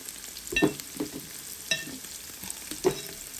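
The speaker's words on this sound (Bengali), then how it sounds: "আমি টমেটোটা দিবার আগে দিই পেঁয়াজটারে রসুনটারে জাস্ট একটু ভাজি করে দিই" Onion and garlic with spices frying in a pan, a soft sizzle broken by several sharp spatula stirs and scrapes at uneven intervals, close and fairly quiet, no talking.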